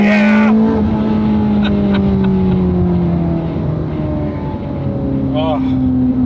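A rebuilt, heavily modified Ferrari 430, wrecked before its rebuild, runs loud and close, its engine revving sharply then settling and rising again in sweeping pitch changes, with a brief burst of exhaust at the start.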